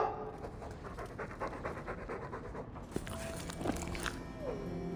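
A dog in the game Dragon Age 2 panting and slobbering close by, quick rhythmic breaths with wet mouth and chewing noises, fairly loud and continuous.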